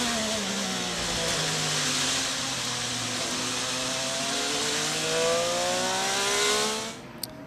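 Chevy-powered IndyCar race car driven through turn 2 at Thermal, a steady high-pitched engine wail holding with gently shifting harmonics, swelling slightly, then cutting off near the end.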